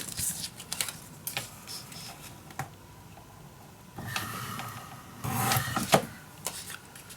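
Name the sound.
cutting paper to size for an envelope mini album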